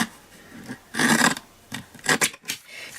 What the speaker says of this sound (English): Bring in my mini trimmer, and I just want to trim it as close as I possibly can